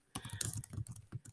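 Quick burst of typing on a computer keyboard, a dozen or so crisp, close key clicks in an uneven rapid rhythm, alone without talk.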